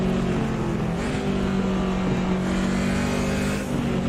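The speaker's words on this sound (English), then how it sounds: "we're up and running for our first few laps here at Kyalami in the BMW" A BMW race car laps the Kyalami circuit in the Automobilista 2 racing game, its engine droning steadily with a sustained tonal whine that rises and dips slightly, loud and continuous.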